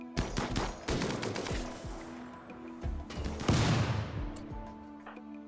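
Smoke launcher firing in RimWorld amid a busy battle, with a rapid volley of sharp bursts and crackling gunfire throughout, one heavy blast near the middle trailing into a hissing wash.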